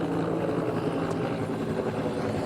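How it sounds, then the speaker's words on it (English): Ventura County firefighting helicopter making a water drop over a backyard during Southern California wildfires, its rotor and engine giving a constant loud, steady drone throughout. "we may see a water drop right here with a Ventura County helicopter"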